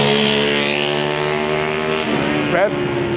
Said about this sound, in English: The street over here is busy